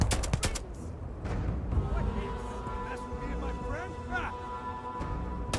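Several quick gunshots from a long-range weapon in the space shooter game Starfield ring out at the start, followed by game sound effects and ambience, with someone talking over much of it.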